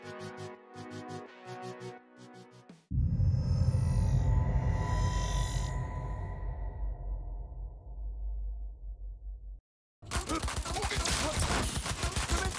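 Gunfire from a modded weapon in the Cyberpunk 2077 video game, a dense, sustained burst of loud shots with heavy low-end boom, stopping briefly before a second rapid volley.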